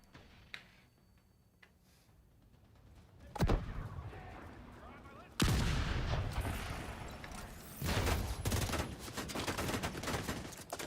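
Mortar and gunfire in The Division 2 erupt as sudden heavy blasts followed by rumbling bursts and rapid shot clatter, loud and close with a quieter stretch before, under occasional talk.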